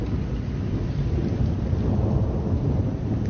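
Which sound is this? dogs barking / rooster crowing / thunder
thunder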